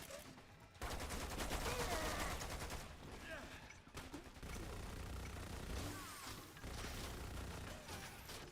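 Gunfire from the video game Far Cry 4 crackles in dense, sustained automatic bursts with brief gaps, loud and continuous, under a faint talking voice.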